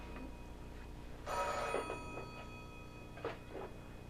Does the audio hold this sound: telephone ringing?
yes